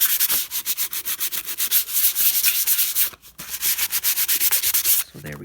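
Sandpaper rubs in quick rhythmic back-and-forth strokes over a shiny surface before gluing, close and loud, with a short pause partway through.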